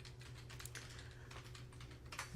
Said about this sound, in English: Colleen Wells are typing that fast